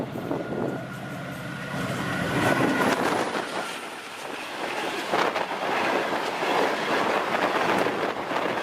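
A train rolls along the rails with a steady rumble and faint clickety-clack, holding close and continuous throughout with no voices.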